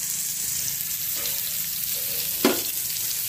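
Fritters sizzling in hot oil, a constant crackling hiss with a brief louder splash near the end as more batter goes in.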